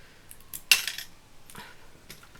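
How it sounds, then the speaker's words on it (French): Wire-cutting pliers snipping through a thin strip of craft material for a wooden Christmas card embellishment, one sharp metallic click followed by a few softer clicks and rustles, close and quiet with no talking. "si vous n'arrivez pas à couper avec la pince à couper, vous bougez comme ça"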